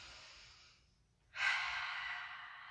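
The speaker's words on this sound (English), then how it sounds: "Work with your breath, focus on your breath." Slow, soft breathing during a yoga crow pose: a quiet exhale fades out, then after a brief pause a fuller, breathy inhalation swells and holds, close and alone.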